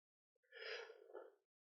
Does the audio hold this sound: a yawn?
yes